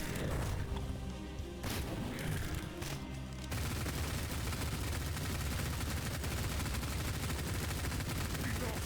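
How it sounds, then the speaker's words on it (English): Rapid gunfire from the video game Cultic, dense sustained bursts of shots filling the whole stretch, loud and continuous after a brief lead-in with a short voice. "shooting him in the heart does more damage"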